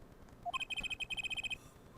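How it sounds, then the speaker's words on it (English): A phone ringing in the game Apollo Justice: Ace Attorney, heard as a rapid run of bright, evenly pulsed electronic ring tones lasting about a second, clear and alone after a short rising chirp. "Phone ringing again?"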